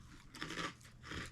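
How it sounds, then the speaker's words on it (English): Two or three close, quiet crunching bites into a crunchy, spicy snack, brittle crackly chews in quick succession. "A considerable snack when it comes to something nice and crunchy with a little bit of spice."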